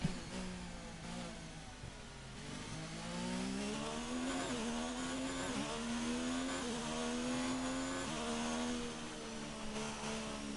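Formula 1 race car engine in F1 2019 at the German Grand Prix, a high-pitched screaming engine note that rises and falls steadily through gear shifts, loud and continuous with no talk over it.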